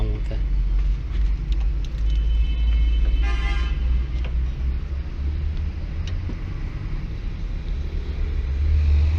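A vehicle horn, freshly fitted to a car in Pakistan, sounds once with a short, bright tone partway through, standing out against steady rumbling engine and street noise.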